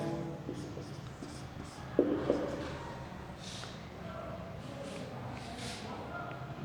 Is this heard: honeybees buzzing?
no